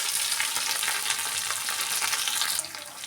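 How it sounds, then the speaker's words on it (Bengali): Grated ginger, coriander leaves, curry leaves and chilli shallow fry in hot oil, giving a dense, steady sizzle with some stirring that eases off slightly near the end, with no voices. "তো এটা মোটামুটি একটু শ্যালো ফ্রাই মতন হয়ে গেছে।"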